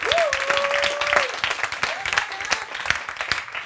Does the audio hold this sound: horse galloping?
no